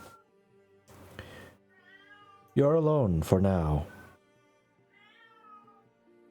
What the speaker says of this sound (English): You just hear a cat.